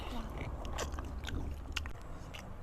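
Someone biting and chewing soft, slow-stewed pig trotters at a rural family meal: close, faint wet chewing and gnawing with occasional small crunchy bites over low room noise.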